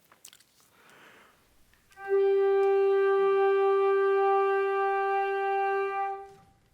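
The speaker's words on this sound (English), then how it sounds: "if we just played one note, it probably would sound something like this." Ensemble of instruments sustaining a single G note from an etude, entering after a few quiet soft sounds and holding steady and loud for about four seconds before releasing.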